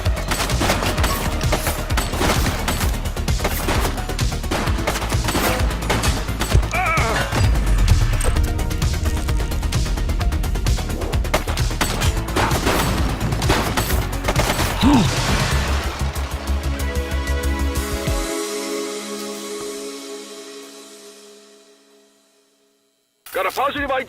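Sustained automatic gunfire from the police video game The Precinct, dense rapid bursts heard up close with crashes mixed in, running steadily before fading out near the end; voices speak over the shooting.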